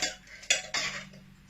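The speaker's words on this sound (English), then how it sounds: "I've just thrown in a tin of chopped tomatoes" A tin of chopped garlicky tomatoes tipped into a cooking pot for a one-pot chilli, giving two short metallic clanks against the pot followed by a soft scrape, close and fairly quiet.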